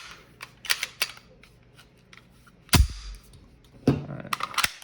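A Sig Sauer P320 pistol is put back together by hand, sharp metallic clicks and clacks scattered through the clip, with a heavier slide-like snap in the middle and a cluster of rapid clicks near the end.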